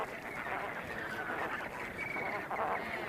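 A large flock of flamingos on a hot, caustic salt pan keeps up a constant honking, goose-like chatter, with many overlapping calls blending into one loud, steady din.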